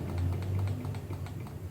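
Rapid, steady keystrokes on a computer keyboard while configuring a Huawei set-top box, the clicks evenly spaced and close over a low background hum.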